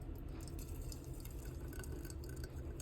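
Berry smoothie poured into a mason jar: a steady wet trickle with faint dripping and glassy ticks, continuous and close, no voices.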